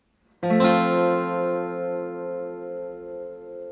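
A single guitar chord strummed on four strings, skipping the low E and A strings, strikes once sharply and then rings out, decaying slowly and alone.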